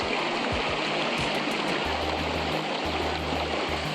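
River water flowing near hot springs in Krabi, Thailand, rushes in a steady, dense wash, close and continuous, with no voices.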